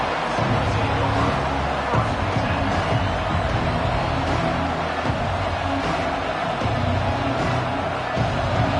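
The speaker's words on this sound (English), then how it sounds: "This crowd, full throat, spreading the eardrums and letting them know it's going to be a long day." A stadium crowd at a college football game roars at full volume, a dense, unbroken wall of cheering and hubbub that continues from start to finish.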